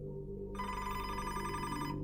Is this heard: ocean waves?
no